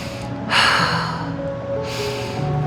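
Breathing during a yoga twist, with the left thumb pushing away into the chest and the gaze over the right shoulder: two sharp, close breaths, the second slightly softer, over a steady low room hum.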